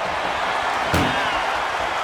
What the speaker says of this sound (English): Just close the second door and victory.